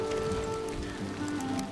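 Rain patters continuously on surfaces in Valheim, an even, moderately loud wash with faint tonal game ambience underneath and no speech.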